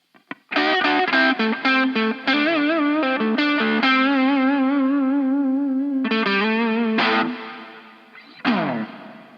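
Electric guitar played through a digital reverb emulating a plate, distorted sustained notes and chords ringing with a lush, spacious tail and chorus-like shimmer, loud and continuous with a few pauses and a final decaying strum.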